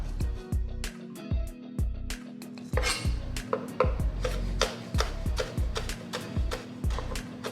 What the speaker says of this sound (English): I'm gonna chop in a little bit of jalapeno.